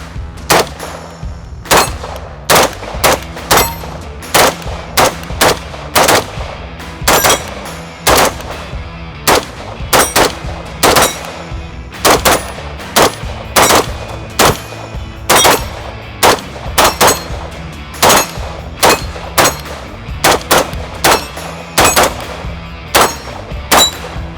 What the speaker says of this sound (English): the first gun I'm going to shoot today is the NISRO